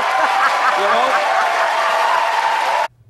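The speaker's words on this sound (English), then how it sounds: "And the crowd gave a standing ovation to that answer." Sustained, dense applause and cheering from a large crowd giving a standing ovation at a Democratic presidential debate, loud and steady before cutting off abruptly, with some voices mixed into the roar.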